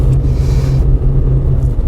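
Car driving through the streets of Hebron, a steady low engine rumble heard from inside the vehicle, loud and continuous, no talk.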